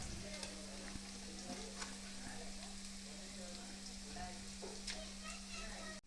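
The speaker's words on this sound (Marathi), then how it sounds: "आणि थोडंसं लसूण घालायचे आणि हे आता परतोस" Garlic sautéing and being stirred in a pan for Khandeshi-style eggplant bharit, a dense continuous sizzle with scraping stir strokes throughout and a low steady hum underneath.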